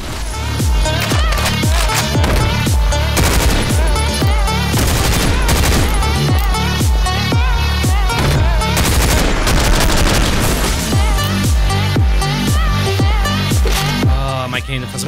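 Rapid, loud AKM rifle fire in the top-down shooter OTXO rattles out in fast, even bursts over a pounding electronic music track, continuous and close throughout.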